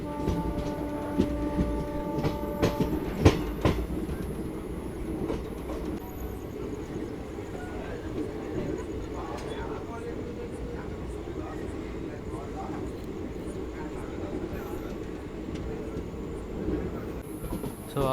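The 17210 Kakinada Town–SMVT Bengaluru Seshadri Express, an ICF-coach train, rumbles around a curve outside Bhimavaram with a steady rolling roar, wheel clatter and a brief squeal early on, while someone talks over it.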